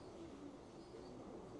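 An ash red pigeon cock coos softly inside a loft, low rolling calls heard faintly over a steady background hiss.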